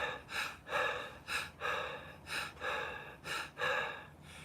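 A person imitates labored, gasping breathing, a steady run of about eight rough, breathy inhales and exhales in quick rhythm, close and fairly loud with no other sound.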